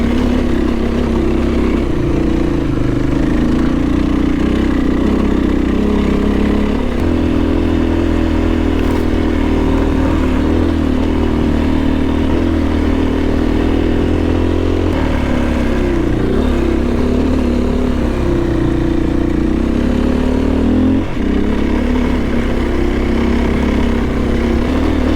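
A motorcycle engine drones loudly and continuously while riding a mountain trail in British Columbia, with shifting revs and occasional rattling clatter, no voices.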